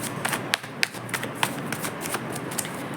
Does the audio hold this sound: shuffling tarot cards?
yes